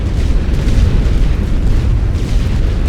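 Artillery shells explode across a World War I battlefield in The Great War: Western Front, a loud, continuous rolling barrage of deep booms overlapping one another with no pauses.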